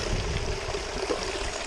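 Water runs and trickles in a steady outdoor rush, close and fairly loud, with no voices over it.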